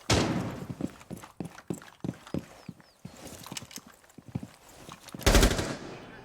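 A light machine gun in Rainbow Six Siege fires a rapid series of sharp cracks close by, with a heavy final blast near the end amid game ambience.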